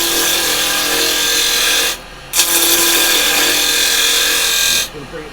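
Wood spinning on a lathe is cut with carbide chisels, giving a steady scraping, rasping hiss. The cut breaks off briefly near the middle as the tool lifts, then resumes and stops again just before the end.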